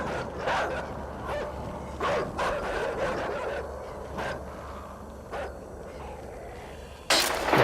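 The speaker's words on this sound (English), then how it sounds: "Pack mentality is what that one was called. Because there's a pack of dogs." A pack of dogs in the video game Inside barking, a series of sharp, spaced barks over a dense, noisy background, with a louder burst near the end and no talk.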